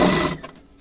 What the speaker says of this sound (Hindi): इस तरीके से लगाने के बाद में हमने यहाँ से इसे सिलाई कर देंगे।